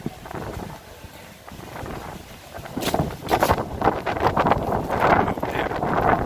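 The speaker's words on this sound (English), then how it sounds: "Oh dear, what a wind" Gusty wind buffeting the microphone on a main street in Bruges, a steady rushing roar that swells into louder blasts toward the end, with no talking.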